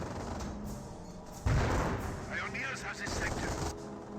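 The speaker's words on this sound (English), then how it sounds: "We do now have good suppression coming out from the MG42" MG42 machine gun fire in the Company of Heroes battle game, rapid gunfire and booms mixed into a dense battle din, with a voice speaking over it.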